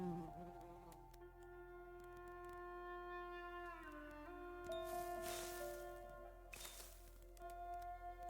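Bees buzz in a video game, a layered humming drone with shifting pitches, quiet and continuous, broken by a couple of brief bright bursts.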